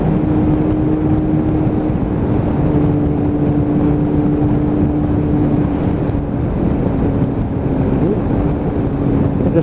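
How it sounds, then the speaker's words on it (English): A Kawasaki ZX7R motorcycle engine burbling on the road, a continuous throaty drone with a steady hum, mixed with rushing wind noise throughout. "I do like the burble of that mill when it comes down through its box"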